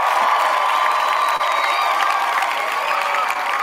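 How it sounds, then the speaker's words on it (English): A live show audience claps and cheers continuously at close range, a dense steady wash of applause with whoops and shouts over it, no speech. "let's get some hand claps going"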